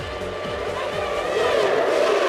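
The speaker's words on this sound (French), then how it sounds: "Pas d'incident au départ de ce Grand Prix de Monaco et les McLaren négocient en tête le virage de Sainte-Dévote" Formula 1 cars, led by the McLarens, thunder away from the start of the 1998 Monaco Grand Prix toward Sainte-Dévote. Several engines blend into a loud, continuous high-pitched wail that rises steadily in pitch as the cars accelerate.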